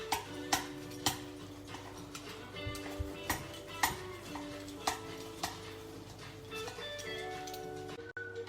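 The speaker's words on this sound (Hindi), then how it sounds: "ये मैं पिज़्ज़ा कटर से काट रही हूँ" Baked lasagne is sliced with a pizza cutter in a home kitchen, giving a steady series of sharp ticks and clicks against the dish, roughly one every half second, close and moderately loud.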